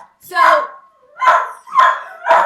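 A dog named Snoop barks at a delivery person in four loud, close, separate barks spaced about half a second apart, with short quiet gaps between them.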